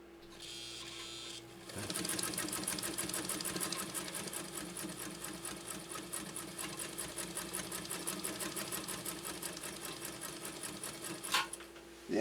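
A Japanese Viscount Model 929 sewing machine stitches through leather, starting after a brief pause and then running in a fast, steady mechanical rattle of rapid needle strokes, close and continuous before slowing to a stop.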